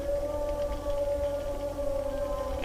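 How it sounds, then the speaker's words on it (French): A whale song sound effect in an audio drama, a sustained mid-pitched tonal moan with faint harmonics over a low rumbling background, with no voices. "Le langage des baleines."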